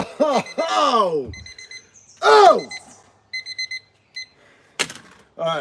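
A workout timer alarm beeps in short, evenly spaced electronic bursts near the end of an abs and lower-back exercise session, set between loud exclamations and voices.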